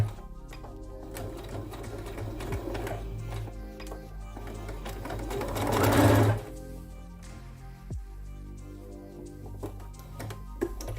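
A sewing machine stitches layered, pleated strips of old cotton t-shirt into a doormat, running in a continuous rhythmic whirr with fast ticking that swells to a louder burst midway before settling back. No one speaks.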